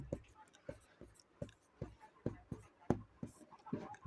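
A pen scratches on paper in short, evenly spaced strokes, soft and close, with quiet gaps between each mark.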